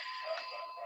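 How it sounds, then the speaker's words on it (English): A doorbell rings as the postman arrives at a home office, a steady sustained electronic tone lasting under a second, faint and slightly distant, with no voices. "sorry if you've heard the bell"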